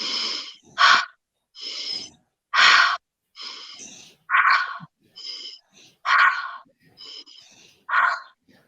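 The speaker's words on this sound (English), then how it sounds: "Now give me 5 quick inhales, exhales" Sharp, rapid inhales and exhales during a guided breathing exercise, about a dozen loud breathy bursts in an uneven rhythm, close to the microphone, with only brief pauses between them and no talk.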